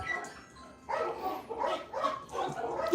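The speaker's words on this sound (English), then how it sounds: "We get to see a bunch of doggies now." Dogs at a doggy camp bark and yip in a quick, uneven run of several calls, fairly close.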